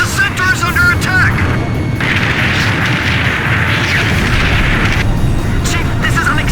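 Gunfire and explosions boom through an attack in Ace Combat 5, loud and continuous, with heavy blasts and crashing impacts layered under voices that talk over the barrage.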